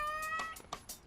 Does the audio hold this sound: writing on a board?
no